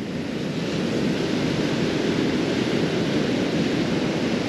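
Big swells and rollers breaking on a Holderness Coast beach in the UK, a constant loud broadband roar of surf with some wind, unbroken and without voices.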